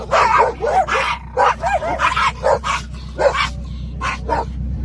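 Several dogs bark repeatedly at a 2024 Pacific Northwest Honda Element meet-up, with sharp, close barks and some higher yips coming in quick irregular bursts over a steady low hum.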